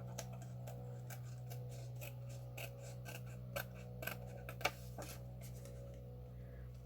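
Paper being cut out by hand for a stained-glass windowed journal card, a series of soft crisp snips and rasps spread irregularly over several seconds over a steady low hum, close and quiet, no talking.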